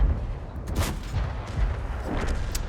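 A tank cannon shot in World of Tanks goes off as a deep boom with a rumbling tail, followed by softer battlefield thuds, all fairly close and with no talk.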